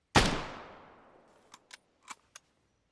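A single loud rifle shot from a video game marksmanship exercise cracks close by and rings out in a long fading decay, followed by four faint clicks or taps.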